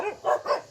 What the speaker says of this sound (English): These bloody dogs, man, they're here to flipping eat me, I think.